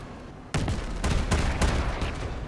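Heavy vehicle-mounted artillery in the Crossout game fires several booming shots that come after a brief quiet lead-in, giving a loud, rumbling sequence of blasts up close.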